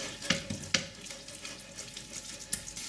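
Chilies and green peppers dropping into hot oil with fried spices for pork vindaloo, a quiet, steady sizzle broken by a few sharp crackles and spits.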